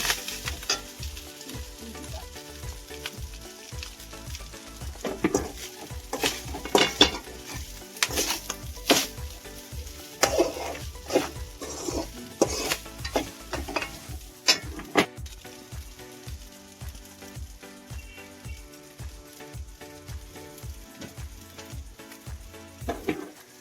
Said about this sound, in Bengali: অল্প দিয়ে নাড়তে থাকবো